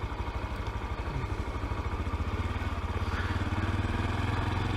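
A Honda Grom motorcycle rides down Highway 50, its small engine droning steadily and loudly up close with a pulsing, throbbing note and rising revs, wind noise underneath, no talking.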